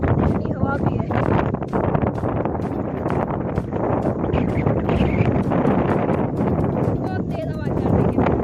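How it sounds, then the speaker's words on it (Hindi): Strong mountain wind at Fort Munro in Balochistan buffets the microphone in a continuous loud roar with gusty rumbling throughout and no pauses. "बहुत तेज हवा चल रही है।"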